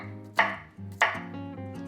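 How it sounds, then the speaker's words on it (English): Kitchen knife cutting the stem end off a tomato for fresh salsa on a cutting board, two distinct close chops about half a second apart over a low background hum, no talking. "we're gonna cut the bottom off there, the stem end."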